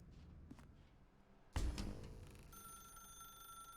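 A telephone in the video game The Stanley Parable starts ringing with a sudden loud bell burst, then a sustained electronic ringing tone, close and alone.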